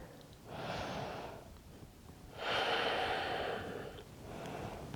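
Deep breaths during a vinyasa flow yoga practice: three slow, airy breaths, a soft inhale, a longer fuller exhale, then another, close and unhurried with no talking.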